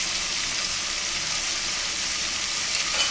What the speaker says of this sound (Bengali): এখানে দিয়ে দিলাম গাজর আর করলা ভাজি করার জন্য